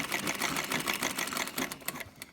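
A Singer 306K23 sewing machine mounted in a treadle stitches away, loud and close, with a rapid, even mechanical clatter that runs steadily and then slows toward the end.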